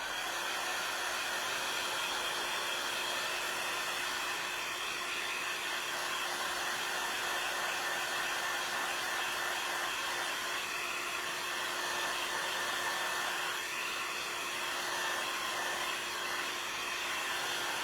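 A hair dryer blows close and loud with a constant steady roar that runs unbroken throughout, no voices over it.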